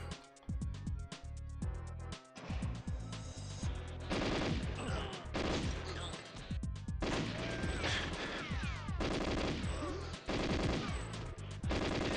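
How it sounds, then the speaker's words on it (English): An auto gun firing in GoldenEye 007, rapid bursts of machine-gun fire with crashes and impacts almost continuously for twelve seconds, loud and dense with only brief gaps. "There's the auto gun."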